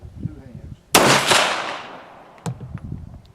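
A single sharp, loud pistol shot from a CZ SP01 firing Winchester White Box 115gr rounds, followed by a decaying echo and a smaller click or thump about a second and a half later.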